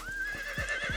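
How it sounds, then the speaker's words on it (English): A horse neighs in the Conan Exiles game, a short rising whinny with a few hoof clops beneath it, close and clear, lasting about a second. "But horses are just amazing"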